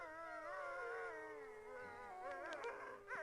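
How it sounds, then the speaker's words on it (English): Wolves howling as a sound effect in an old radio drama, several long wavering howls overlapping in a chorus, with higher yips and whines rising toward the end, fairly close and clear. "The wolves. Children of the night."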